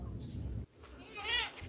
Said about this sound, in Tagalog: Pakaingay na mga kambing ko dito mga busing.